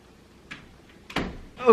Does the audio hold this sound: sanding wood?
no